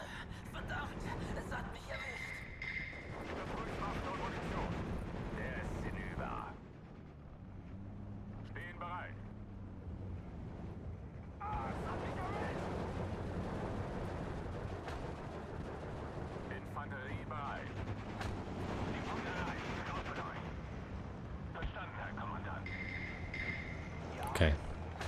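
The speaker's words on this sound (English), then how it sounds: "We'll just start pounding this area with 120mm mortar fire." 120mm mortar fire in the Steel Division 2 strategy game, with repeated dull booms and rumbling impacts spread across the battlefield, heard beneath almost constant speech.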